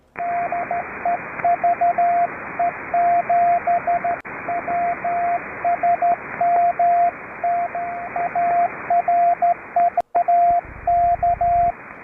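Morse code on an amateur radio net in the 80-metre band near 3729 kHz: a steady single-pitch tone keyed in quick dits and dahs, sent continuously over a band-limited hiss of radio static.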